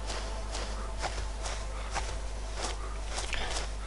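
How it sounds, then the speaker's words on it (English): Footsteps in a survival video game, a steady series of evenly spaced soft thuds, about eight in a row, over a constant low background hum. "I hate those footsteps though in the game"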